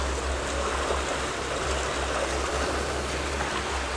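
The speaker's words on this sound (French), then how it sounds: "Et il y a un gros débit d'eau." A heavy, continuous rush of water pours through an extremely old dam mechanism, a steady broadband roar with no pauses and no voices.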